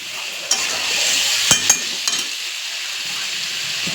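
Spices and pointed gourd fry steadily in a pan with a continuous sizzle, while a utensil stirs and scrapes through them, knocking against the pan a few times.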